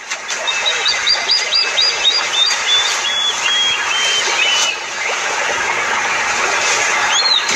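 A plover gives a run of sharp, high repeated calls, close and clear, over a steady outdoor background hum.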